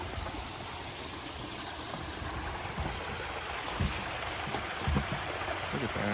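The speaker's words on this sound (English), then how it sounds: "We got a little creek, little waterfall." A small creek and little waterfall in a Japanese-style garden with a koi pond, giving a steady, close wash of running and splashing water.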